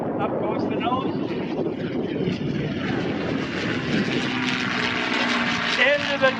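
A P-51D Mustang named Swamp Fox roars past in an airshow pass, its propeller engine a loud, sustained rumbling drone that shifts in pitch as the plane pulls up, with an announcer talking over it.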